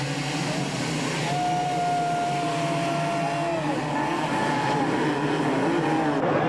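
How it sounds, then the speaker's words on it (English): Many 250cc motocross bikes rev their engines at the starting gate in the rain before a 1995 AMA Motocross race at High Point, making a dense, continuous mechanical roar with a rising whine that holds steady throughout. "They rev the engines, waiting for the gates to drop for Moto #1 to be underway."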